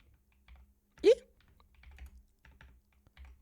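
Clicky typing on a computer keyboard, several scattered keystrokes with one louder sharp tap near the start, close by and otherwise quiet, with no talk over it.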